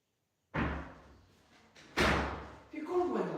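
A door thuds open and then closes with a heavier bang a moment later, close by in a room, followed by someone speaking.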